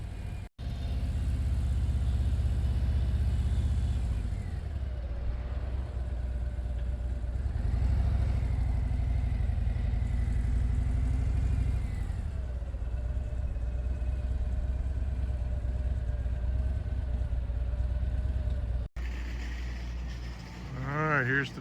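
A group of Harley-Davidson motorcycles sits at a H.O.G. rally rest stop, engines idling and revving in a continuous low rumble, with one bike's pitch rising and falling as others run steadily nearby.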